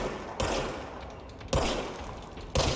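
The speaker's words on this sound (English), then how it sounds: "Now I have a gun." A gun in the video game Control fires three heavy, sharp shots about a second apart, each blast trailing off into a ringing decay, loud and close, with no one talking.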